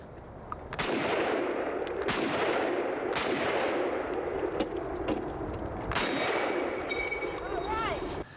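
Gunfire at an open-air gun range: several sharp, loud shots ringing out at irregular intervals, each with a trailing metallic ring, with faint voices in the background.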